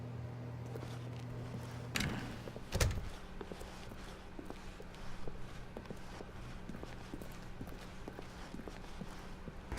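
Stanley's steady footsteps in The Stanley Parable as he walks through an office door, a regular close rhythm of shoe taps on a hard floor with a couple of louder thuds early on, under a low ambient hum.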